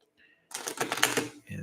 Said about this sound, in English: So I'm gonna give it a couple of shuffles. I'm gonna give it a nice little split